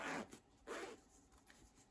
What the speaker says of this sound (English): Zipper pull still works.